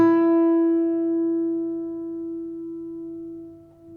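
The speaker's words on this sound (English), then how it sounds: "So I'm going to play a note on my guitar here. I'm going to play E on the second string." A single E note on the second string of a guitar rings out clear and close, with a little vibrato, then slowly fades over about four seconds. It is heard alone, with no talk.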